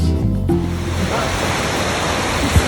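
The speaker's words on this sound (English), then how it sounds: "This is Milk Creek at the foot of Mount Jefferson" Milk Creek rushing steadily at the foot of Mount Jefferson in Oregon, a continuous broadband roar of mountain stream water, close and fairly loud, with a brief low thump near the end.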